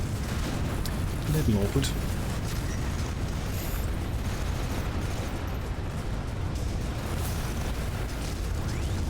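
Artillery and meteor impacts in the video game The Riftbreaker, a continuous rumbling barrage of booms and bursts under a speaking voice.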